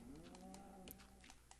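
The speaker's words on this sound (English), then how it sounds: "You hear all this mooing going on?" Cows in the Minecraft video game lowing faintly in the distance, drawn-out game moos blending with small clicks and soft background noise, no voices.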